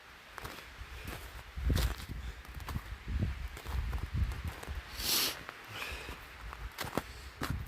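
Boots crunch through snow on a windy mountain hike below a tree line, with irregular footsteps that come close and loud, some heavier and some lighter, against a steady rustling background of wind.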